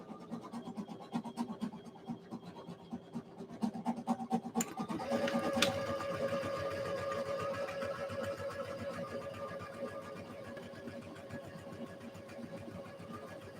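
A sewing machine stitches the seams of a pair of shorts at a slow, steady pace with a tight stitch length, a rapid mechanical chatter that kicks in after a few seconds of quieter handling and runs continuously.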